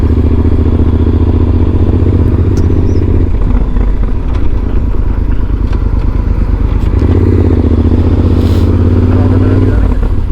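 Motorcycles idle loudly up close, a steady engine rumble that dips and shifts as the bikes are walked and repositioned into shade at a roadside drive-in stop on a Route 66 ride, with clatter and voices mixed in.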